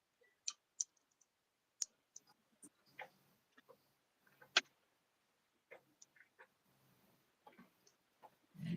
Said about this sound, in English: I'm accidentally clicking buttons